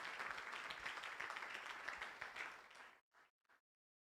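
Congregation applauding together during a church service, a dense sustained wash of clapping that cuts off abruptly, followed by two brief faint bursts of sound.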